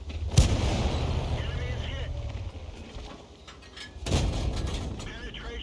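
Two heavy tank cannon blasts in War Thunder, one near the start and another about four seconds later, each a sharp boom with a rumbling tail over steady engine noise and battle ambience, with voices talking.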